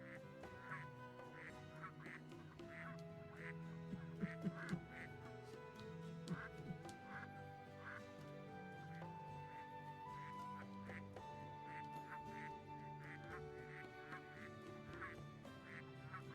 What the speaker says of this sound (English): George is a duck.